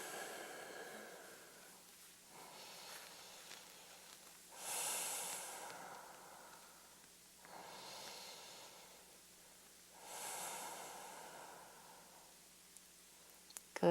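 Slow, audible breathing during a yoga pose: three or four long, airy breaths, each drawn in and released over a few seconds, close and quiet against a faint low hum.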